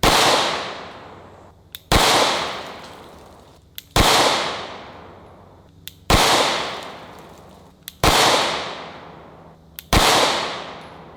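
Six pistol gunshots fired at a Sentry Safe, sharp loud cracks spaced about two seconds apart, each followed by a brief decaying ring, with no voices.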